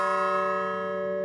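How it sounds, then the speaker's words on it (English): An F-sharp bell at the Whitechapel Bell Foundry rings with a sustained, rich metallic tone full of steady overtones, loud and close, gently fading over a second. "So is the whole bell an F-sharp bell?"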